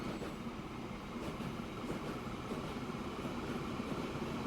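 A train rolls along in the video game Transport Fever 2, a steady faint rumble of wheels with soft rhythmic clicks, distant and continuous with no voices.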